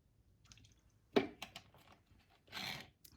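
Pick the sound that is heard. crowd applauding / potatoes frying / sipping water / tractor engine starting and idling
sipping water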